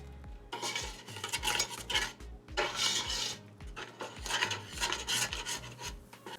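A utensil stirs chocolate melting in a pan, scraping and clinking against the metal in a steady rhythm of repeated strokes with a faint sizzle underneath.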